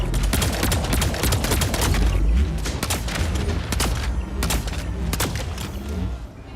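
Heavy rapid gunfire from mechs in the Mech Arena game, a dense continuous barrage of loud cracking shots and booms with sharp repeated bursts throughout, no talking.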